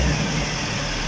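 An Isuzu truck engine fitted with an HHO generator revs steadily and loudly up close, a dense continuous mechanical roar with no voices over it.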